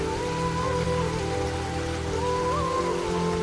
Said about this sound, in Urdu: بارش کی بوندیں۔